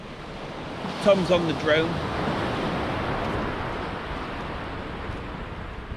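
Wind gusts and roars across an open stretch of the Holderness sea coast at Tunstall, a loud continuous rush with surf-like hiss throughout and someone speaking briefly near the start.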